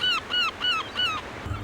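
A sneaky seagull snatching someone's lunch at the St Ives seaside, four loud, nasal cries in quick rhythmic succession, close by, followed by a low rumble.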